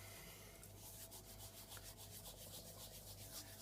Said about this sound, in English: So you literally are just rubbing it out.